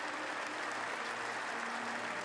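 A cricket crowd at an England v West Indies Test match applauds as Jimmy Anderson walks out, a continuous distant wash of clapping filling the ground.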